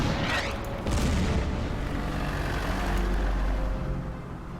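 Artillery fire in a desert wargame booms with a heavy blast that rolls into a long, low rumble, loud and sustained.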